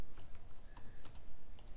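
Quick, uneven keystrokes clatter on a computer keyboard during a basic HTML and CSS lesson, a close and steady run of taps with no voice over them.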